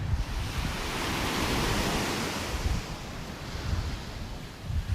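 Ocean waves washing onto the beach at North Naples, Florida, a broad continuous surf roar with gentle swells and some wind buffeting the microphone.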